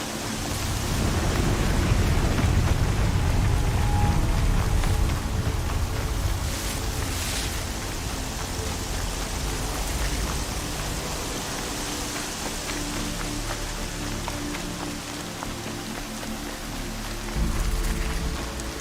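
Heavy storm rain pours steadily in the Horizon Zero Dawn video game, with low rumbling thunder rolling underneath, loudest early on and swelling again near the end.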